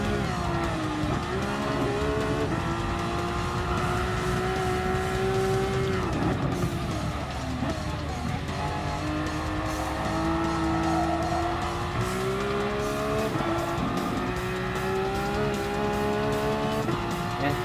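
Racing game car in Gran Turismo Sport braking hard, engine note dropping through gears with tires squealing and skidding in repeated drawn-out screeches, loud and close with no talk.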